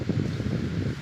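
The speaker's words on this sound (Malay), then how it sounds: "Kuat angin." Strong wind buffets the microphone in an oil palm plantation during harvest: a loud, continuous low roar with gusty swells and no talking.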